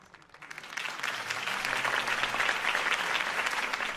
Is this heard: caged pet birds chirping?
no